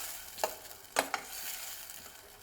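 Raw peanuts and masala sauté in oil over a low gas flame for choli nu shaak: a quiet sizzle broken by three brief, close stirring scrapes.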